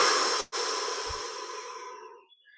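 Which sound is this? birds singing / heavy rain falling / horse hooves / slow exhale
slow exhale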